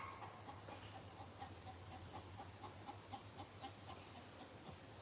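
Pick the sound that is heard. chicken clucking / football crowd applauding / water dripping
chicken clucking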